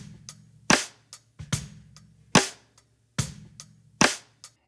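Snare drum hits in a song mix, striking in a steady backbeat of sharp, punchy cracks with short tails, each followed by a softer ghost note, over a low sustained bass tone with no voices.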